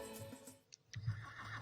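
A horse harnessed to a cart whinnies in a quavering, wavering call, preceded by softer snorting and a couple of faint ticks, at moderate distance without any speech.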